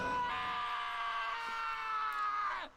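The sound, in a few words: Taka screaming in video game Danganronpa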